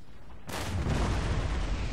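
A sudden booming volley of musket and artillery fire erupts in a Total War: Empire battle after a brief quiet, rumbling heavily and sustaining as a dense roar.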